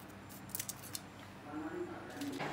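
Scissors snip dried chilies in a kitchen with a few quick, faint cuts over a steady room hum. A soft clatter follows.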